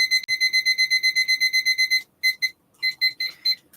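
A timer alarm beeps in rapid, evenly spaced high electronic pulses, loud and close, then stops and sounds again in a few short broken bursts.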